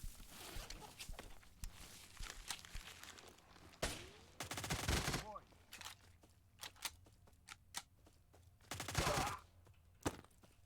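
A Saiga-12K shotgun firing buckshot in a video game: a series of loud, sharp blasts spaced irregularly across the clip, some in quick pairs, with movement and clatter between the shots and no talking.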